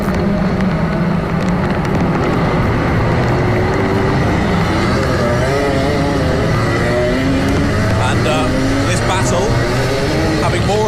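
A pack of racing karts roars around Rye House Kart Raceway in a London Cup final, with continuous buzzing engines rising and falling as they pass. A commentator talks over the engine noise throughout.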